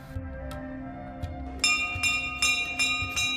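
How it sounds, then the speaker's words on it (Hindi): Temple bells rung by devotees at a Tripura Sundari shrine, bright metallic clangs struck several times in succession with long ringing overtones layered over a lower humming drone and background murmur. "घंटियां बजाकर यहाँ हर कोई माँ को अपनी कामना बताता है"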